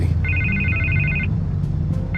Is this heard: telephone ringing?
yes